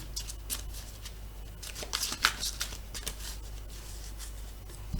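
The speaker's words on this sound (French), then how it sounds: "Je coupe et je vais prendre celui du dessus." A deck of cards is cut and shuffled close by, giving soft papery riffles and flicks in short bursts over a low background hum, busiest in the middle.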